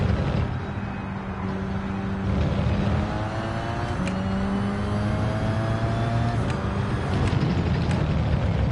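Race car engines roaring around Laguna Seca in Gran Turismo 7, a steady loud drone with rising and falling pitch sweeps as the cars accelerate and shift through the corners, with no talking.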